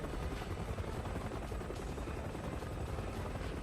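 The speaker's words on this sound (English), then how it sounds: "Look, it's an all-out helicopter fight." Helicopter in the video game Resident Evil 6, a steady, loud rotor roar with dense continuous chop that holds unchanged throughout and has no talk over it.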